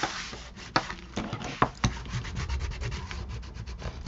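An ink applicator rubs back and forth against the edge of paper in quick, soft scrubbing strokes, faint and close, with a few sharper scuffs and no talk.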